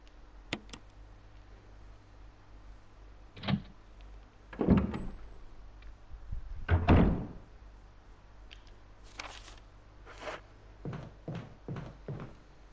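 A door opens in the Resident Evil video game, with a few broadband clunks and a louder creaking thud mid-clip, then scattered light ticks and clicks over a low steady game-room hum.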